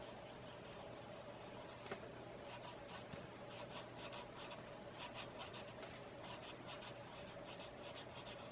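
A pen or pencil draws a swirling curve on paper, a quiet close-up scratching and rubbing that continues steadily with soft rhythmic strokes, over a low constant background hum.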